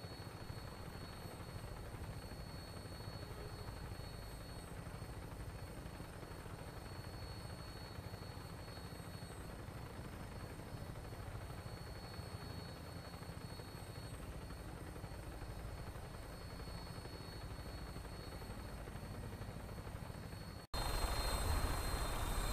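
A steady rotor-and-engine drone of an aircraft in flight in Fallout 4, continuous and even throughout, with a brief jump in level near the end; no talking.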